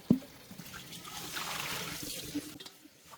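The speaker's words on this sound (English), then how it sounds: "Once everything has loosened, I simply pour away the dirty water." Dirty water poured from a cast iron wok, a steady close trickle and splash lasting a few seconds after a sharp knock, then tapering off, with no voice.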